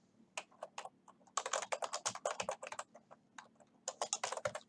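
Quick bursts of keystrokes on a computer keyboard, close and crisp, arriving in uneven clusters with short pauses between words.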